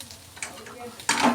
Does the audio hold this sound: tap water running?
no